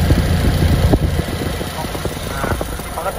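Close-up idle of a modified, lowered 2005 Honda Jazz GD3 VTEC automatic: a steady low engine drone with light ticking and small clatters scattered across it.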